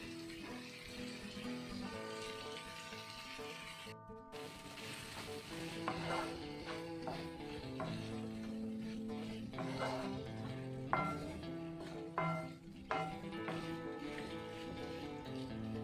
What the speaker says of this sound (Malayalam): തക്കാളിയും കൂടി ഇട്ട് നന്നായിട്ടൊന്ന് ഇളക്കിയതിന് ശേഷം ഇതൊന്ന് നന്നായിട്ട് നിരത്തി വയ്ക്കുക